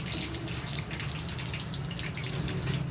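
Water from boiled chicken drains through a kitchen strainer, a steady close trickle and splash running evenly for a few seconds with no talk over it.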